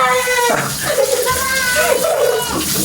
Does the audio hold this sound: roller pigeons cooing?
no